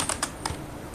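Fingers tap a computer keyboard in a few quick, sharp clicks with uneven spacing, close by and moderately loud, with no voices.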